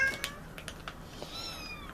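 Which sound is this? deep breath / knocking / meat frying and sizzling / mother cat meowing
mother cat meowing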